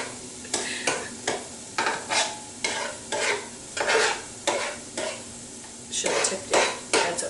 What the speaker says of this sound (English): And I'm going to scramble some eggs.